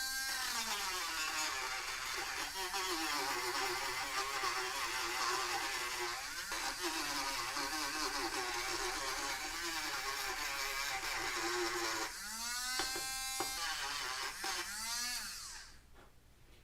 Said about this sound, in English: if you have a tool like this Dremel, you can just sand around the edges of the inside of the centering ring